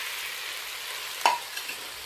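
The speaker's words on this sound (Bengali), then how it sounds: "ভেজে রাখা ঢেঁড়সটা এই পর্যায়ে তুলে দিলাম।" Fried okra tipped into a pan of shrimp and spices gives a steady soft sizzle, broken by one sharp stir or scrape clink midway and a couple of small taps after.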